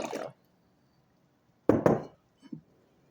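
Traditional mead is poured into a wine glass in two short bursts, the glass clinking and liquid splashing briefly up close, followed by a faint clink, with silence between.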